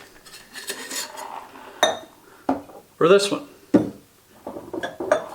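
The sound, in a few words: ice and glassware clinking, filling a rocks glass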